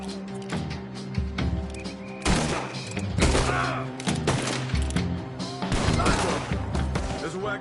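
Gunfire rings out in the Red Dead Redemption 2 video game, with repeated loud shots and volleys bursting over a busy background of game sound and voices.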